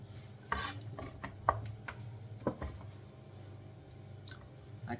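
A kitchen knife chopping green beans on a board, a series of sharp, separate knocks at uneven intervals over a quiet room hum, close by and fairly soft.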